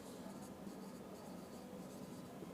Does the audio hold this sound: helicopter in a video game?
no